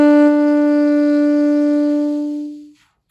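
A saxophone sounds a first B note, fingered with just the first finger, held steadily and clearly for about two and a half seconds before fading out.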